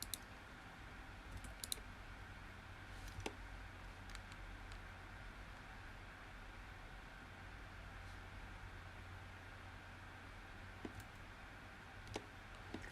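Faint, sparse computer mouse clicks during polygon modeling and topology work, scattered single and paired ticks over a quiet room hum with long gaps between them.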